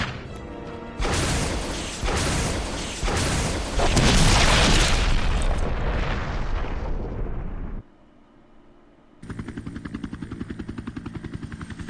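Rocket launcher blasts in the Resident Evil video game, loud booming explosions rolling for several seconds, then a brief lull and a sustained buzzing mechanical roar.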